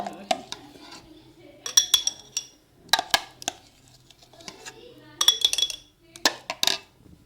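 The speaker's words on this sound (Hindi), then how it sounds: "अब इस चम्मच की मदद से हम इस जार में इसको शामिल करते जाएंगे।" Metal spoon scraping and clinking against a glass jar while garlic paste is scooped in, with repeated sharp clinks and scrapes in irregular bursts, close and clear over a quiet room.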